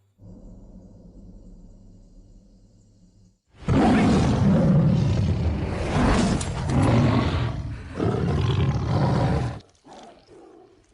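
A tiger from the Indonesian film Sming gives a loud, sustained roar lasting several seconds, after a quieter low rumbling growl, then breaks off abruptly with a brief trailing snarl.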